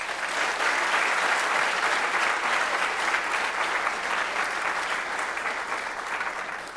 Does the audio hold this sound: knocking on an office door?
no